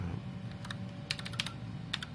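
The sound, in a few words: typing a folder name on a computer keyboard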